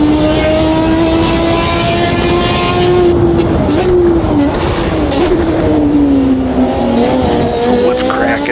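A 1986 Formula 1 car screams through the Canadian Grand Prix in Automobilista 2, its loud high engine note holding steady and then dipping and rising with gear changes, continuous and close.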